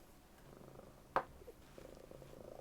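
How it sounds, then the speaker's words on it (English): A pet cat purring softly and close by, a low steady rumble with a single sharp click partway through. "My cat can sense I'm getting distressed. She's purring."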